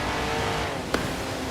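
Austin-Healey 3000 MK III engine in Forza Horizon 4 holding a steady drone under engine braking on a slippery road, close and continuous, with one brief sharp click partway through.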